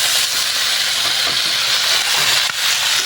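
Adobong talunan chicken frying in its own rendered oil, a steady bright sizzling hiss, close and continuous with no talk.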